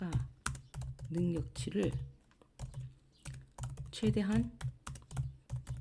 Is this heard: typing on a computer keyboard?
yes